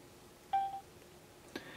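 LG Dare mobile phone key press, a short clean tone beep followed a second later by a fainter click-like second tone, quiet and close.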